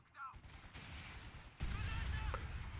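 Machine-gun fire in the Battle for Caen video game at Tilly-sur-Seulles, a steady clatter of bursts that swells louder partway through, with faint voices underneath.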